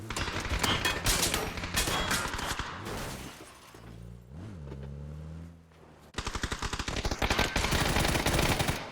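Rapid bursts of automatic gunfire in a competitive league video game match, dense and loud, stopping for a few seconds of quieter game sound before the shooting resumes.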